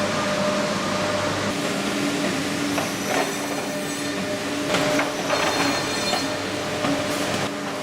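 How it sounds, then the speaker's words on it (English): OptiJoint V8 vertical finger jointing machine working wood, a steady mechanical hum under repeated sharp clattering bursts and rattles from the cutting and conveying action, continuous and close. "The OptiJoint V8 offers high-speed vertical finger jointing with optimal utilization and capacity performance."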